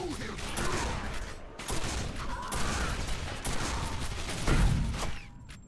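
Rapid shotgun blasts and other gunfire in the video game Quake 4, a dense run of loud, booming shots with brief gaps, mixed with game effects and a voice talking over parts of it.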